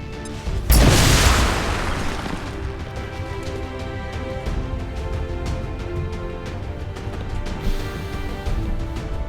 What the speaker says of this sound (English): We'll use a plasma grenade. That'll damage its armor as well. Fire in the hole!